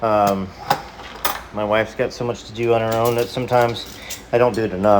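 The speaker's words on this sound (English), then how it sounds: "if you hear dishes clattering in the background for a second" Dishes clink and clatter lightly as they are put away in a home kitchen, sharp short knocks scattered under a man's steady, close talking.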